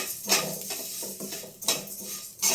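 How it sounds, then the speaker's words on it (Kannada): Vermicelli frying and being stirred in ghee in a pan, heard as a few sharp clinks and scrapes of a spoon against the pan over a faint sizzle, with no voices. "ಸ್ವಲ್ಪ ತುಪ್ಪ ಹಾಕಿ 1 ಸ್ಪೂನಷ್ಟು ಶಾವಿಗೆ ಹುರ್ಕೊಬೇಕು."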